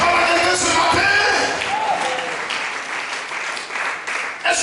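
Church congregation applauding in praise of Jesus during a Sunday service, a dense sustained burst of many hands clapping that fades gradually over several seconds, with a few voices mixed in.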